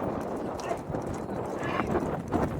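Bullock cart ride at Pongal, with a steady clip-clop of hooves under continuous chatter and background noise, the rhythmic hoof beats fairly close and moderately loud.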